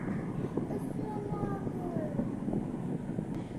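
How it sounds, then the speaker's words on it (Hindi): Hot summer loo wind blowing steadily outdoors on a cloudy day, a continuous low rumbling buffet across the microphone, fairly faint and unbroken. "हवा चलती रहती है, गरम गरम लू चल रही है"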